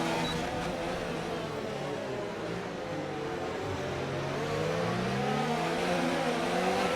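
Several Formula 1 cars race closely in a league video game at Austria, a dense blend of revving engines with overlapping pitches rising and falling, loud and continuous without voices.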